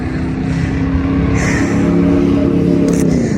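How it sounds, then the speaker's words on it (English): A truck rumbles past at close range outdoors, a broad steady low roar that swells and holds for a few seconds with no pause, some higher whooshing layered over the top. "Let that truck pass by"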